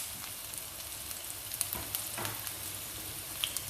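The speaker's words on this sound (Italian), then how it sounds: "poi aggiungiamo in padella i peperoni" Bell peppers sizzle and fry steadily in hot oil in a pan with softened onion, a close, continuous crackling hiss with occasional small pops and stirring.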